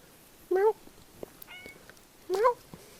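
A female house cat meows twice, loud, whining cries about two seconds apart, wanting to be let outside, with quiet room noise between the calls.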